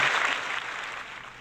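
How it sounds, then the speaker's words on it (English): A short burst of applause for guests from a small audience, a soft, hissy patter of clapping that fades gradually over about a second, with no talk. "Can we give those guys a clap?"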